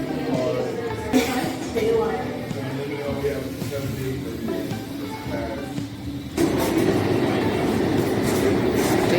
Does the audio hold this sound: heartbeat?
no